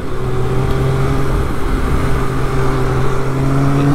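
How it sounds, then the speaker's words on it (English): A 2012 Triumph Speed Triple 1050 motorcycle exhaust drones steadily at close range while riding over a bumpy road, its engine note holding at a constant pitch with a faint rise in revs near the end. "Exhaust note sounds good too."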